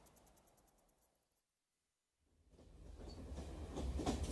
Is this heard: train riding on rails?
yes